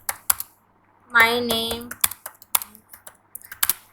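Keystrokes on a computer keyboard while typing in MS Word: quick, irregular clicks close by, with a brief spoken phrase cutting in between bursts.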